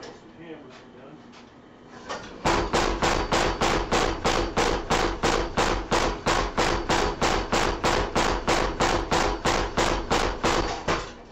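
A hammer strikes hot metal being forged into a spatula about 2.5 inches wide, a close, loud, steady run of evenly spaced ringing blows after a quieter lead-in.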